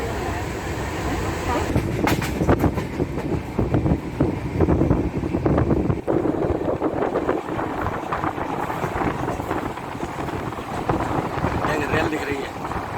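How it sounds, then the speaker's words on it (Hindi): A train passing somewhere along the journey toward Vaishno Devi, a steady rumble with wind buffeting the microphone and broadband rattling that holds through the whole stretch, with faint voices in the background. "एक रेल दिख रही है।"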